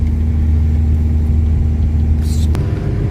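A car engine laboring steadily up a winding mountain road at about 13,700 feet, a constant mid-pitched drone with rumble, plus a brief hiss and a sharp click near the end.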